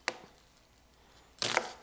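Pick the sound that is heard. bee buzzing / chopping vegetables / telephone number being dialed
chopping vegetables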